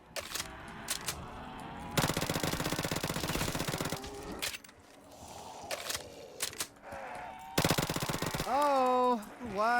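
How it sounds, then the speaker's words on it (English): Bursts of rapid automatic gunfire from a Black Ops 3 zombies game on a custom Walking Dead-style Alexandria map rattle in long loud volleys, with quieter gaps of movement and game effects and a brief voice between them. "why did I fire off all my bullets?"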